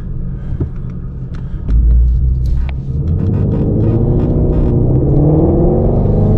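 A Shelby GT350 fitted with a K&N air filter rumbles at idle, then its engine revs hard with a sudden loud surge and holds a deep, throaty roar while driving.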